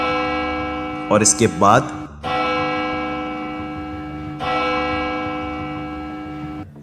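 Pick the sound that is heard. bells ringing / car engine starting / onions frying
bells ringing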